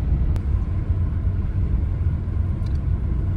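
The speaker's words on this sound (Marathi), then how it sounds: "तर असा काही टायरचे नॉइज आहे" Steady road and tyre roar from worn Ceat Secura Drive tyres heard inside a moving car with the windows open, a continuous loud low rumble with no talking.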